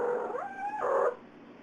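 A cat's hum vocalization: a sustained tonal murmur that rises in pitch, holds steady, then drops before trailing off, close and clear with no talk.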